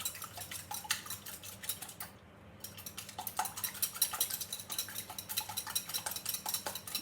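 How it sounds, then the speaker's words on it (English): An egg beaten with a utensil in a bowl during bread baking, rapid, continuous clicking and tapping strokes, close and moderately quiet, with a brief pause before the whisking resumes steadily. "So we're just gonna beat up the egg."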